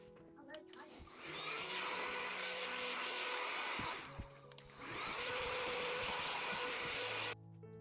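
A vacuum cleaner cleans a home living area, its motor whining in two long loud runs that stop briefly in between, with clattering and handling knocks at the starts and a quiet stretch at the end.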